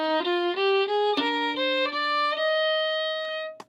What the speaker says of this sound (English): right in the middle I had the open D string ring